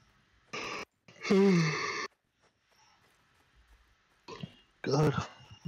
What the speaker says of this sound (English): yawning like a motherfucker today